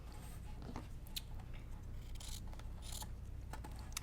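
Scissors snip through foam fabric strips for a no-sew wreath, giving a few faint, quick, crisp cuts over a low steady hum with no voice.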